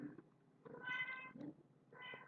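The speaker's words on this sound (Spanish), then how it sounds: "el gatito que justo se pone a cantar cuando yo estoy grabando estos videos" A cat meows several times indoors, a short call followed by two longer, drawn-out meows, fairly close and alone in a quiet room.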